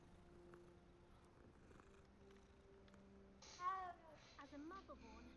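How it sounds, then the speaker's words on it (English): A cat in the Hogwarts Legacy video game purrs softly at low level, with a brief meow-like cry partway through and game voices talking faintly in the background. "There's a cat."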